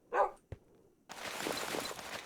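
Dogs in the video game Twilight Exile, a sharp close bark and a brief yip, then a steady wash of broadband game noise with no talking.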